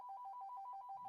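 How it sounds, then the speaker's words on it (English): A telephone ringing with a rapid warbling electronic trill, repeating steadily, clear but fairly quiet. "I don't know why the phone's going."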